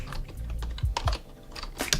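A computer keyboard is typed on in quick, uneven bursts of close, crisp key clicks, with no voices.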